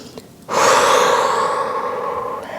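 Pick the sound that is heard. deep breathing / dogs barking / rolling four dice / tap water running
deep breathing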